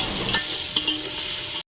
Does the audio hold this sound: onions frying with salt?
yes